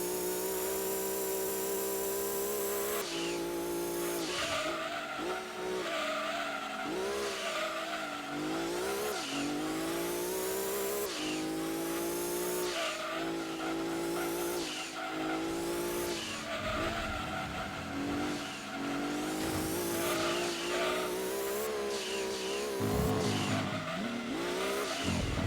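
Race cars in the Gran Turismo 2 video game roar continuously, engines revving up and down through gear changes with repeated tire squeals and skids, loud and dense throughout with no talking.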